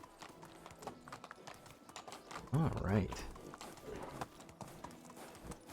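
A donkey's hooves clip-clop in a steady quick rhythm while walking in the medieval village life game Medieval Dynasty, soft and mid-distance, with a short spoken word and a brief louder animal sound partway through.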